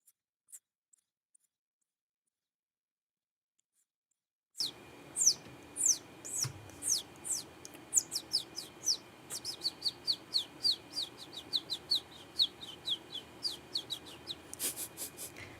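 A person imitates baby chicken chirps with a rapid run of high, sharp peeps, close and fairly loud, following several seconds of near silence.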